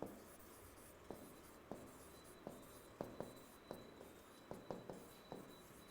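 Pen writing Chargaff's rules on a surface, with a series of light taps and strokes at irregular intervals over soft scratching, quiet and close.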